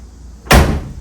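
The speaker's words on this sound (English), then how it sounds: "shut these doors and get them to lay flush with the body" A car door, a 9C1 under assembly, is pushed shut against brand-new rubber gaskets, giving a single heavy, close thud that fades quickly.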